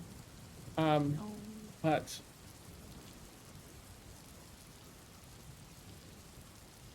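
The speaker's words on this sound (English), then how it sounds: "the storm is so loud" A steady background hiss of a rainstorm, faint and even throughout, stands as a background effect, with a brief spoken word early on and no distinct thunderclap.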